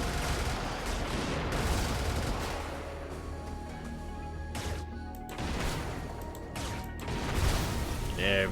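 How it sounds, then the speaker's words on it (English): Powerful machine gun firing in the mech combat video game Brigador, dense rattling bursts and crashing impacts layered with mechanical clatter, heard under someone talking. "That is a very powerful machine gun."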